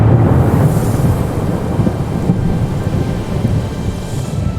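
Cartoon-style thunderstorm effect for a small boat caught at sea, with steady heavy rain and wind washing through and low rumbling thunder swelling loudest at the start, continuous and close with no voices.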